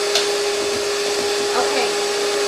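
An electric hand mixer whips a mixture toward thin peaks, giving a steady high whirring drone throughout, loud and close, with no clear talk.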